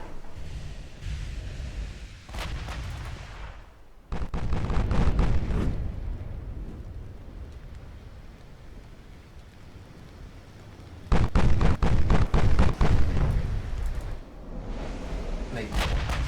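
Naval main guns fire heavy shells in the warship battle game Ultimate Admiral, booming in two dense clusters of rapid blasts separated by a stretch of rumbling background noise.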